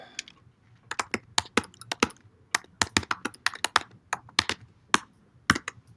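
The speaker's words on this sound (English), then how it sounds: "I am just randomly clicking things now" Rapid, irregular taps on a computer keyboard and mouse clicks, crisp and close, bunched in quick bursts with short pauses between them and no talking.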